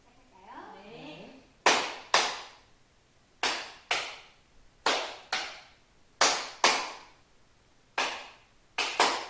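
Hands clapping out a call-and-response rhythm in a children's imitation game, sharp close claps in pairs and short groups separated by brief pauses, with a faint voice at the start before the clapping.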